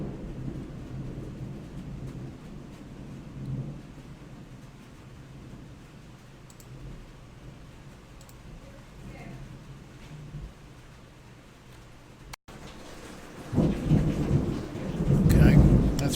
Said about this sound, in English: Okay, that's real thunder